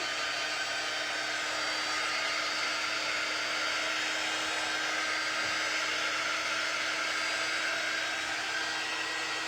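A hair dryer blows over freshly painted chalk paint on a wooden sign, a loud, steady whirring hum that runs unchanged and close throughout.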